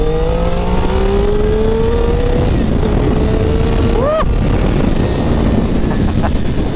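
A Triumph Street Triple motorcycle pulls hard from about 30 mph in second gear, its engine note climbing steadily and then rising sharply near the end, loud and close under heavy wind roar.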